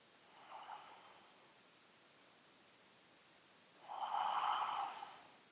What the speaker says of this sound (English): Take about 3 deep breaths here.